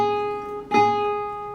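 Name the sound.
twangy high A string on an 8-string guitar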